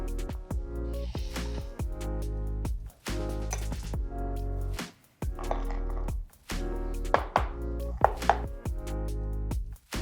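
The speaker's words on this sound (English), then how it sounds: "we'll chop our star ingredients, that is pecans." A knife chops pecans on a cutting board in a steady run of sharp, close, loud thwacks, broken by a few short pauses.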